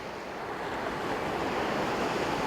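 Steady ocean surf washing onto the shore, a broad continuous rush of breaking waves with some wind noise, building slightly louder toward the end, no voices.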